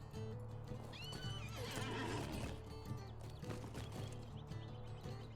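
A player's horse mount in the game Lord of the Rings Online neighs amid steady clip-clopping hooves and background game ambience, fairly faint overall with no voices.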